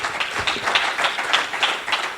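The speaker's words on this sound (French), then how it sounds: "für unseren Herrn applaudieren" Congregation applauding during a church service, a dense, steady wash of many hands clapping at close range with rhythmic surges, no voices on top.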